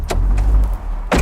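A car door thuds shut up close, a heavy low-pitched slam with a brief latch click at the end.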